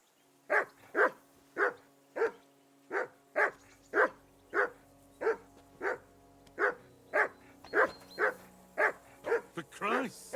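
A dog barks repeatedly at a steady pace, about sixteen sharp barks in ten seconds, close and loud, in a medieval village in the video game Kingdom Come: Deliverance 2, with game ambience and music beneath.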